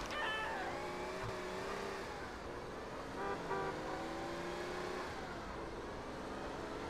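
Car engine hums steadily while driving in Grand Theft Auto: San Andreas, with game music and horn-like tones layered over the continuous motor drone, no pauses.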